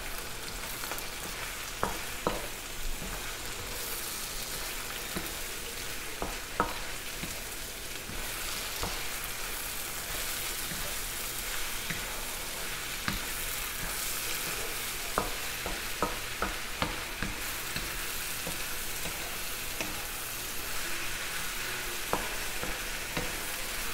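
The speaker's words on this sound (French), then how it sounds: "J'ajoute les champignons. Et je fais revenir" Finely chopped mushrooms sauté in a pan for a tagliatelle dish with mushrooms and chicken, giving a steady, close sizzle broken by frequent stirring clicks and scrapes throughout, with no voices.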